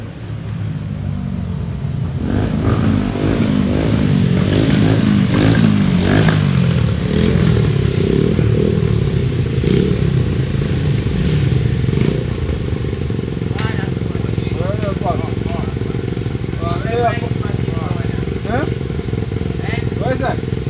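Motorcycles at a Jamaican bike show rev loudly and steadily for the whole stretch, with engine rumble and clattering throughout and people talking over the noise.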